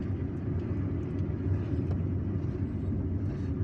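A car driving through the streets of Algiers, a steady low engine and road rumble held close and even throughout, with no voices.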